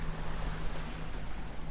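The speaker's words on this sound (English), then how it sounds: "we got a little wind, not much" Wind at sea aboard a motor boat running its engines blows as a constant rushing noise, with a low engine hum and a wash of waves underneath.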